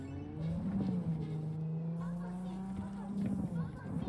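Car engine droning steadily while driving in the game Cyberpunk 2077, a continuous hum with slight pitch shifts, with someone talking over it.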